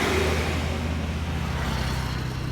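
Vehicles speed past on a road in Nepal, a loud continuous roar of engines and tyres that swells at the start and holds steady.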